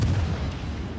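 Heavy naval cannon salvo in World of Warships, a deep booming blast that rolls off into a rumbling decay, loud and close with no talk.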